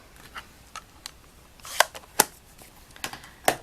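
Several sharp taps and clacks of a rubber stamp pressed onto card while stamping a balloon for a handmade card, irregularly spaced, close and fairly crisp, with no talking.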